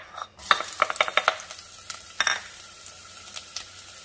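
Half of a small onion goes into preheated olive oil and sizzles softly in a pot for Italian wedding soup, with a steady low fry under sharp clinks of a stirring utensil.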